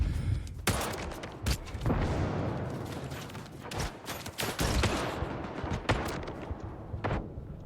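Gauss rifle fire in S.T.A.L.K.E.R. 2: Heart of Chornobyl, a string of loud, sharp cracking shots at irregular intervals over a dense, rumbling battle din.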